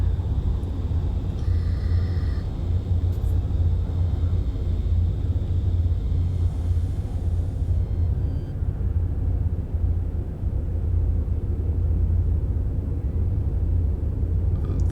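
Storm on a planet in No Man's Sky: a steady, dense roar of wind and rumbling noise, loud and unbroken throughout, heard alone without talk.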